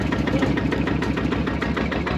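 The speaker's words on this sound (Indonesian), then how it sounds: "Mesin sudah dinyalakan." A vehicle engine idling steadily after starting, close and fairly loud, with a dense low rumble and even rhythmic pulsing throughout and no voices.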